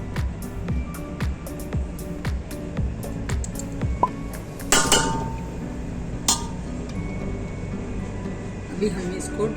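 Dishes and a spoon clink while carrot murabba (gajar ka murabba) is moved from the pan onto a plate in a home kitchen: scattered light chinks and taps over a steady low background.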